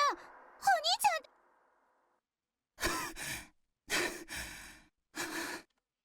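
Heavy breathing from a character in the game I/O, several loud close breaths and sighs in separate bursts with silent gaps between them, after a brief voiced gasp.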